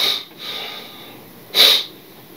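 A single short, sharp sneeze-like burst of breath cuts in near the end, loud and close, after a fainter breathy exhale at the start, with no talking around it.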